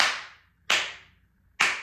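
Three sharp, flat flamenco palmas hand claps, struck off-center in the cupped palm, each a slappy crack with a quick decay, evenly spaced and close up, with no talking.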